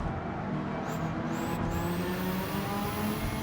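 A Subaru 22B race car in Gran Turismo 7 roars steadily at high speed near 170 mph, with a loud sustained engine drone and a high whine rising as it heads into heavy braking.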